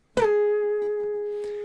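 A single guitar note slides down from above into the ninth fret, with a quick pitch drop at the attack before it settles into a clear, ringing sustain that slowly fades, played alone.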